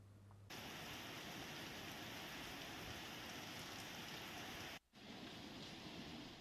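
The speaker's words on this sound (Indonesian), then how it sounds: "Kabupaten Ogan Komering Ilir akhirnya diguyur hujan deras" Heavy rain pours down in Ogan Komering Ilir after a long dry season, a dense continuous hiss that holds steady throughout, broken only by a brief cut near the end.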